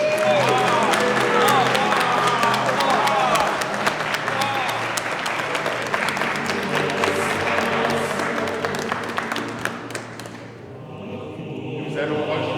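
Crowd at a medieval festival in Luzarches applauding and cheering a newly dubbed knight, with sustained dense clapping and shouts throughout, thinning briefly near the end before swelling again.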